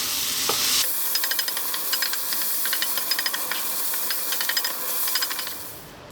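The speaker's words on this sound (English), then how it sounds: "Mix that around, cook them in there." Beaten eggs frying with cabbage in a pan, a steady close hiss and sizzle broken by repeated scraping and clinking of a utensil as the mixture is stirred, with no talking.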